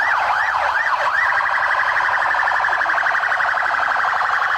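Police car sirens sound loud and continuous during a drive-past tribute in front of a soldier's house, the wail sweeping up and down at first and then steadying into a fast warble, with no voices.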